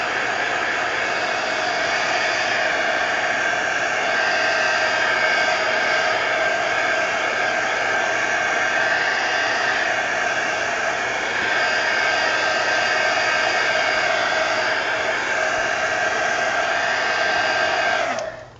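A hair dryer runs continuously to dry a mixed media canvas, a loud, steady whooshing roar with no breaks until it cuts off at the end.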